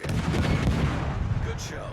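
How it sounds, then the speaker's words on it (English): Naval artillery fire in World of Warships: a heavy, dense roar of big guns booming and rumbling continuously for a moment, loud and close, fading slightly at the end. "All stations, concentrate fire on the target."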